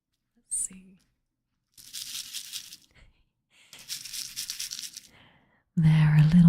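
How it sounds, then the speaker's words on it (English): Small beads shaken in a little storage container give two bursts of sharp, crisp rattling close up, separated by silence, with a voice starting at the end. "I have a little storage container of beads"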